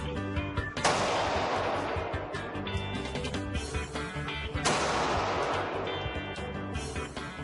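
Gunshots at a shooting practice outing, two loud sharp blasts a few seconds apart, each followed by a long rumbling echo and dense background noise.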